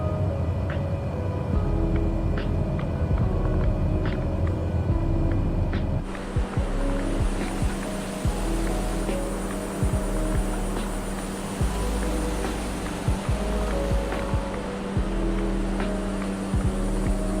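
A Cessna Caravan single-propeller plane in Microsoft Flight Simulator 2020 drones steadily with a throbbing engine and prop, loud and continuous, its tone shifting partway through as power changes.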